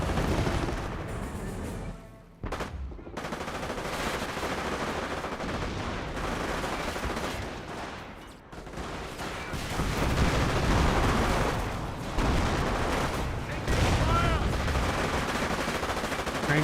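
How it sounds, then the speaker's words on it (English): Rifle and machine-gun fire from Ranger infantry in the World War II strategy game Company of Heroes, a continuous crackle of shots and bursts amid battle noise with occasional louder volleys. "Rangers firing away"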